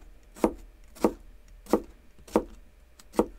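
A kitchen knife makes five crisp, evenly spaced chops through a celery stalk on a cutting board while it is bias-cut into thin slices. The cuts sound close and distinct, with no talking.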